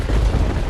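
An animated character's body explodes in a single deep, loud, rumbling boom that fills the whole moment without any talking.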